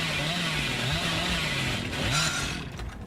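A chainsaw revs in the Dead by Daylight video game, a loud, buzzing engine drone that rises and wavers over about three seconds and cuts off at the end.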